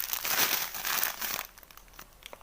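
Plastic bags of ration sugar are handled up close, giving a loud crinkling rustle for about a second and a half before it fades to a few faint scattered crackles, with no voices.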